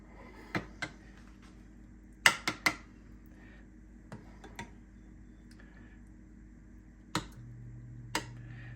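A gravy spoon clinks and taps against a sprayed metal muffin tin while sausage frittata egg mixture is spooned in, giving a few sharp, scattered clicks with quiet gaps between them and no talking.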